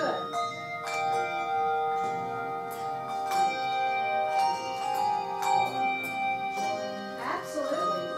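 Handbells ringing in a group rehearsal, several clear, sustained tones struck in a loose sequence, overlapping and ringing on, fairly close and alone.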